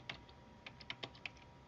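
Directory name typed on a computer keyboard: a short run of quiet, irregular key clicks, about six distinct taps spread over under two seconds, with no talking.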